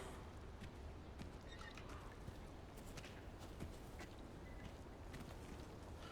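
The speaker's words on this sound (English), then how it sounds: "Okay, I hear footsteps" Footsteps in the Resident Evil 4 Remake video game, a continuous soft patter of steps with hoof-like clip-clop over a steady ambient bed, fairly quiet and without talk.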